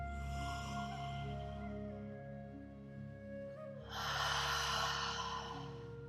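A slow, deep breath during a beginner vinyasa yoga class, an audible exhale and inhale over soft background music with a swell of breathy air near the end.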